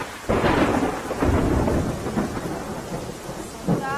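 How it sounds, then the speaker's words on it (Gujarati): Heavy monsoon rain hisses steadily in Junagadh while deep rumbles of thunder roll through, a louder crack near the start and another rumble near the end. "જૂનાગઢમાં સતત વરસાદ પડી રહ્યો છે"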